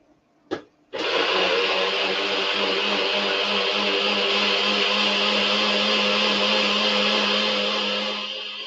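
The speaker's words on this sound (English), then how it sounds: "that's your warning for the food processor, because it's quite loud" A food processor starts with a short knock, then roars into a loud, steady whirring blitz of chickpea and chorizo stew that runs for several seconds, close by and without talk.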